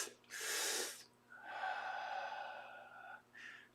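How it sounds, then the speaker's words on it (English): A person takes two deep breaths in through the nose, then lets out a long, steady exhale, ending with a short final breath; close and clear, with no talking. "Take a deep breath. Take 2 of them in, and then release it."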